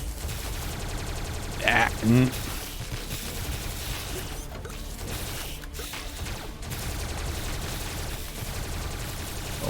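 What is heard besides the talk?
Rapid Tesla gun firing in a video game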